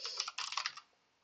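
Quick burst of keystrokes on a computer keyboard, several close clicks in a short run, then a pause and one more press at the end; nearby and fairly quiet, with no voices.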